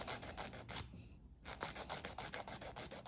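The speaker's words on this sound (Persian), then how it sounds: "اگر کاتر نداشتین با سوهان دستی مقدار لازم رو کوتاه کنین" A hand file rasps rapidly back and forth across a gel nail tip in steady, even strokes, pausing briefly before resuming the quick scratchy rhythm, quiet and close.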